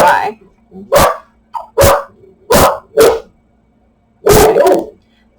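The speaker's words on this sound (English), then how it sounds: "my dogs might bark" Several sharp, loud barks from household dogs come in short bursts spaced about a second apart, with a longer double bark near the end and a faint whimper between them.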